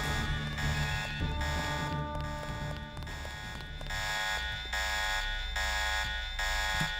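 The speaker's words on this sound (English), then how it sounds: "did you really have to set the alarm off, dude?" A video game alarm in Deus Ex blares in repeated pulsing tones, each buzzing burst lasting about a second with short gaps, loud and steady over low background game sounds.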